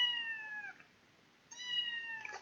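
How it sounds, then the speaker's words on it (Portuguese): Two clear meows from a three-month-old kitten, each about three quarters of a second with a short pause between, close and fairly loud, with no talk. "Se vocês estiverem escutando uma gatinha miando é porque eu adotei uma gatinha essa semana"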